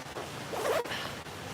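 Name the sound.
zipping up a jacket zipper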